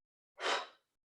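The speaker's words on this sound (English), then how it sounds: "Breathe out." A single forceful breath pushed out through the mouth during a seated chair yoga exercise, a short, close, airy whoosh alone in silence.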